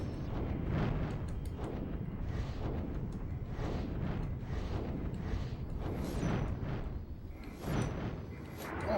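Missile explosions boom repeatedly in the action game Drakengard, a dense rumbling barrage of blasts layered over continuous low roaring battle noise.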